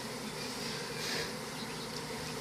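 Steady dense buzz of many honeybees around a hive, continuous and fairly close, a broad droning hum with no talk over it.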